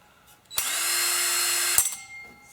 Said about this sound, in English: 4-inch hole saw versus scrap aluminum.